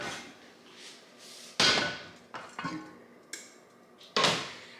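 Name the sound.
hot Dutch oven being taken out of the oven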